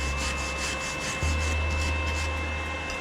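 Arc welding with a Sincrolamp ARC 140i inverter welder on a 4 mm steel flat bar, a steady close crackling hiss with a constant electrical hum that shifts pitch midway, no talk.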